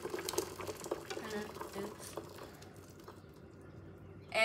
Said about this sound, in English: It's time to remove the tea from the heat and start to strain it.